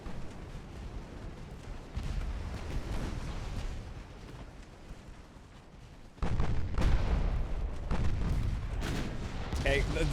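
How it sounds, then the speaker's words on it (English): Heavy warship main battery salvos striking an enemy ship in the naval battle game Ultimate Admiral Dreadnoughts, heard as a continuous roar of booming gunfire and impacts that surges louder midway and stays dense to the end. "Those are main battery hits."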